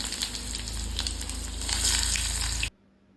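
Onion dropped into hot oil already holding mustard seeds, asafoetida, cumin and curry leaves, a loud continuous sizzle with crackling spikes that swells midway, then cuts off abruptly into near silence.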